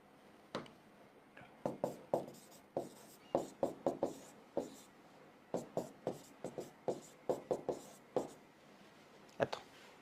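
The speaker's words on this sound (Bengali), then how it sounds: "এটা লিখে দিচ্ছি" Chalk or marker strokes on a board during a chemistry lesson, a steady run of short scratching and tapping strokes of varied length, fairly close, with brief pauses between letters.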